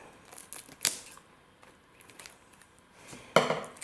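Plastic wrap being cut and peeled from a steelbook case: a few brief crinkly snips and rustles, close by and separated by quiet, with a louder tearing burst near the end.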